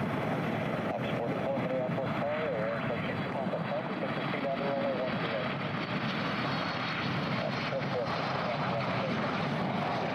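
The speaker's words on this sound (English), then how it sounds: "This Boeing 747 hit a wind gust right before touching down," Boeing 747 jet engines roar steadily as the airliner floats down in a wind gust before touchdown, a continuous broad rumble heard from a distance with no clear breaks.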